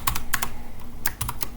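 Quick bursts of keystrokes on a computer keyboard, several clustered clicks with short pauses between them, close and distinct with no voices.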